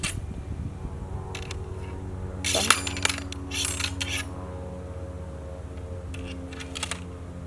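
A metal ramrod is drawn from a flintlock musket and worked down the barrel, giving sharp scraping rattles and metallic clinks in several clustered bursts over a low background hum.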